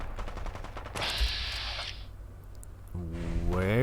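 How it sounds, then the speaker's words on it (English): Gunfire in Fallout 4 with the Fallout London mod, a rapid burst of automatic shots followed by a harsh blast and a rising tonal whine, moderately loud game audio. "And somebody's shooting."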